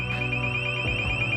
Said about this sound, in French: Et voilà le foutu réveil que je me prends toutes les demi-heures